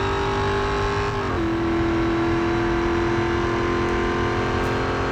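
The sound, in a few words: car engines racing in video game Real Racing 3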